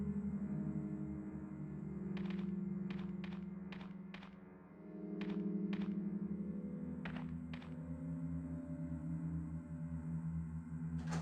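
Repeated mechanical clunks from a crank being turned in Resident Evil: Director's Cut, irregular taps in small clusters over a steady low droning game ambience, with no talking.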